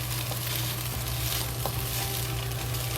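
Beaten eggs sizzle steadily in a hot pan while being stirred into small pieces, a constant crackling fry close up with occasional soft scraping, no voices.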